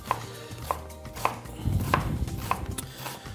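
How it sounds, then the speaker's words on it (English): A knife julienning a red onion into thin strips on a cutting board, a steady series of crisp close chops about every half second, with soft board knocks between them. "We're just going to cut into thin little strips."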